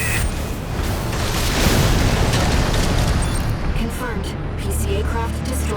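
An aircraft explodes in Armored Core VI, a loud, rumbling blast that fills the whole stretch with sustained booming debris noise, while a voice talks over it.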